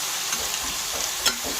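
Carrots, broccoli, capsicum and green chilies for a mixed vegetable curry fry in a pan, giving a steady close sizzle with a few scraping stir strokes and one sharper clatter near the end.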